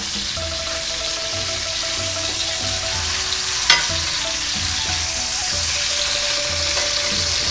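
Pork pieces for a red curry sizzle and fry steadily in a hot pan, with a loud, continuous crackle and one brief clatter midway as the meat is turned. No one speaks.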